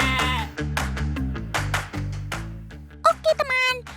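Batur sheep bleat in a rapid series of loud, wavering calls, several overlapping close by, some high and some deeper, with brief gaps between them.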